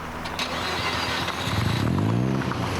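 Mazda RX-7 rotary engine at a Targa NZ tarmac rally in the Manawatu, loud and close, with a rising rev building through the second half over steady engine drone.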